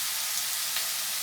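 Onions sizzle and fry steadily in a pan, seasoned with salt and black pepper, a continuous close hiss with no talking.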